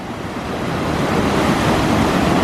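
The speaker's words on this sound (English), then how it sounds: "You gotta love the sound of rushing water, right?" Rushing water pours over the falls at Falls Park, a loud, dense, continuous roar heard from a bridge with some wind buffeting the microphone.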